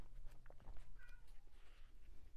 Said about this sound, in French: Il y a Michel qui miaule à la porte.